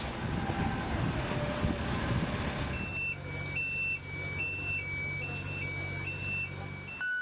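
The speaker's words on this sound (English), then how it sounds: "the military uses a variety of heavy machinery and construction equipment" Heavy construction machinery reversing with a rumbling engine and a steady alternating two-tone backup beeper that repeats every half second or so, loud and nearby, following a louder stretch of roaring engine noise.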